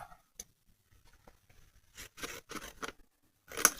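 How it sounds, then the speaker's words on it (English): Cardstock being cut round for layered leaves, a few faint snips and scrapes at first, then a cluster of louder close cuts and rustles toward the end, no voices. "So we will need to cut this round."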